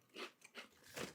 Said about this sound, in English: when we're munching on chips